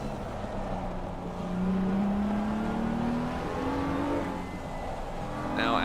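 A BMW race car in a racing video game at Circuit Paul Ricard, engine droning steadily with a rising whine under braking and gear changes, loud and continuous.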